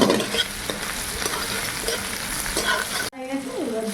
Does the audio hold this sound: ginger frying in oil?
yes